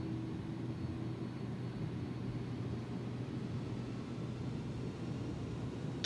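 Airbus A310 engines in a flight simulator spooling up for takeoff on a green, snowless runway: a steady, loud low roar and hum that holds evenly throughout, with no talking.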